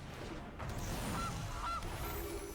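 A goose honks a couple of times, faint and brief, from the Goose card in the MTG Arena video game, sitting over a dense background of game ambience.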